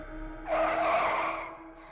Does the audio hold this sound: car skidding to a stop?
yes